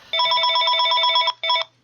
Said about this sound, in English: I didn't realise the phone was right next to the microphone there